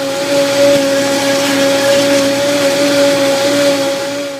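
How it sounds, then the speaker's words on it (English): A blender whirs loudly and steadily up close as it blends a raw vegan tortilla batter to a thick, pancake-like consistency, with a constant motor whine and no pauses. "So let's get blending."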